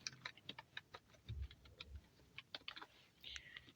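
Steady typing on a computer keyboard, a fast run of crisp close keystrokes with small pauses over several seconds, quiet and with nobody speaking.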